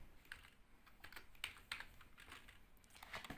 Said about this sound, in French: je tape mon texte